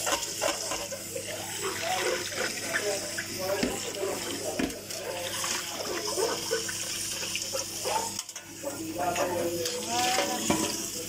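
Water pours from a kitchen tap onto a sponge in a sink, a steady splashing rush that fluctuates in intensity over the whole stretch, fairly quiet and close, with a brief dip near the end.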